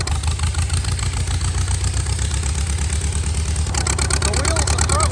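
An antique farm tractor engine chugs steadily close by with a low, pulsing idle, then moves off slowly. Near the end, a voice talks briefly over the running engine.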